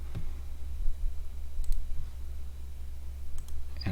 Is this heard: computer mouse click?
yes